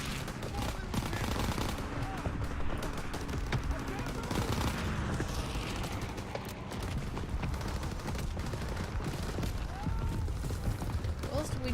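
Steady gunfire in the Call of Duty: WWII video game, with dense, continuous bursts of automatic fire and explosions forming a busy, loud backdrop for nearly twelve seconds, and people talking over it.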